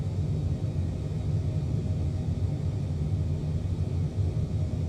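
Fully loaded airliner taking off in Flight Simulator 2024, a steady deep rumbling roar of engines and runway noise, close and constant with no voices.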